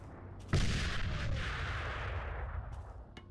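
A grenade explosion and gunfire in a combat video game: one sudden heavy boom that rolls into a long fading rumble, with faint distant shots trailing at the end.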